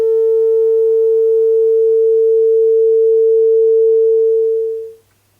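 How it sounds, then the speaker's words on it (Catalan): A pure sine tone from a Max/MSP patch sounds as one steady, loud electronic pitch with faint harmonics, holding unchanged for about five seconds before a quick fade to silence. "Pujo el màster general, i aquí ja tenim un so pur."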